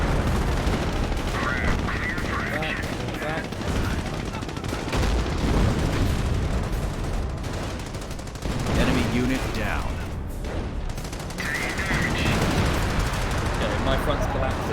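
An artillery creeping barrage thunders across a Company of Heroes battlefield, dense booms and gunfire rolling continuously under a voice giving orders.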